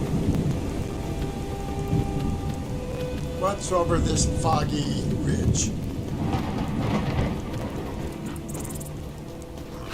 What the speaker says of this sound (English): There's some good lightning and thunder effects.